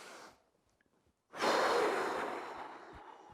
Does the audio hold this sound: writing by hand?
no